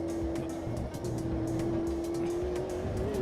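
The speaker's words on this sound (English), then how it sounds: "Had to feather the throttle through that one." Race car engine in the AMS2 sim racing game, held at a steady drone as the throttle is feathered through a corner, loud and continuous with no voices.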